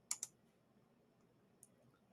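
A computer mouse clicks twice in quick succession, then once more after a pause, sharp and close in an otherwise quiet room.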